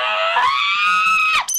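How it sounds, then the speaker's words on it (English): A woman lets out one long, loud, sustained scream for stress relief at the top of her lungs, starting steady and breaking off sharply near the end, followed by a brief higher squeal. "get in a circle, and scream at the top of their lungs to get out of their frustration"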